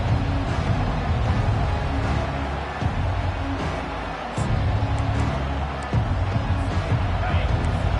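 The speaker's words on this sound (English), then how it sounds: "Listen to the crowd energy here in the early going." Steady roar of a large college football stadium crowd at Virginia Tech vs Ohio State, a dense babble of many voices filling the space, with a few swells and dips but no clear single speaker.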